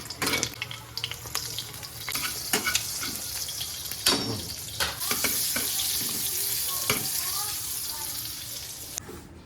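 Food frying in a pan alongside running tap water, a continuous hiss and sizzle with scattered clatters and scraping at moderate volume, with faint background voices.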